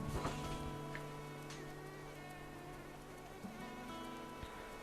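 Insect buzzing from a mosquito in the video game Animal Crossing: New Horizons, a steady high drone with harmonic bands holding across the whole stretch, set against a background of game music.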